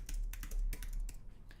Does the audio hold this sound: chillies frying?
no